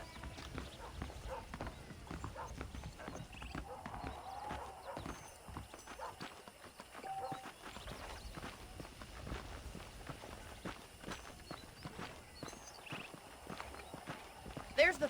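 Horse hooves clip-clopping steadily at a walk in Red Dead Redemption, close and fairly quiet, with an occasional whinny; someone talks over the hoofbeats throughout, and a brief louder knock comes at the end.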